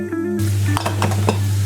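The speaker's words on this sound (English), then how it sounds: "Cut the onion and cook them in a special oil, the meat oil" Onions frying in rendered meat oil with spices in a Lebanese home-style kitchen, a steady close sizzle with a low hum beneath and a few light clinks and stirring scrapes of a utensil against the pan.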